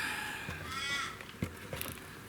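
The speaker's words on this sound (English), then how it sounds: "you can hear the crow, or a crow, in the background" A crow caws outdoors under a sunny sky in Western Australia, a few harsh calls in the background, moderately distant amid light ambient noise.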